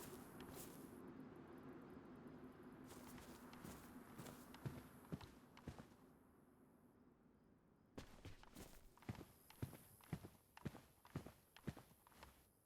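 Footsteps in a roleplay video game, a series of sharp, fairly close steps with a pause midway, then a quicker run of distinct footfalls over a steady low background hum.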